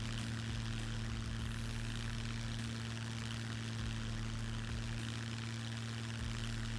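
A plane engine drones steadily in flight in the survival game SCUM, a constant close hum with a low propeller-like tone that holds evenly without a break.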